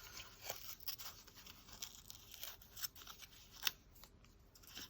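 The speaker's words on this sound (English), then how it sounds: "I do want to take the white off this torn edge, which I'm going to tear it backwards" Paper being torn slowly backwards along an already torn edge, a quiet series of soft ripping and crinkling sounds close up, with no voices.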